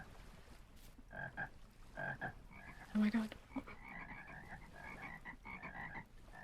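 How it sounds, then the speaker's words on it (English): Many frogs croaking in the video game Vintage Story, a busy chorus of repeated short croaks at mixed distances, with a person briefly exclaiming over it. "There's so many frogs here right now."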